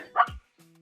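A single short bark from a puppy at play, a sharp yelp that drops quickly, followed by a faint low hum in a quiet room.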